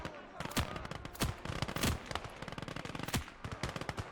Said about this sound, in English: Get rid of that machine gun.